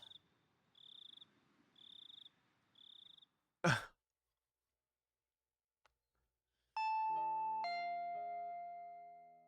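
Doorbell from the video game Higurashi When They Cry, a bright two-tone chime that rings out and slowly decays, preceded by rhythmic cricket chirps and a sharp sigh-like whoosh in an otherwise quiet scene.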